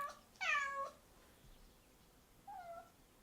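A cat meows indoors, two distinct calls: a loud, drawn-out meow near the start and a shorter, fainter one about two seconds later, with quiet room tone between.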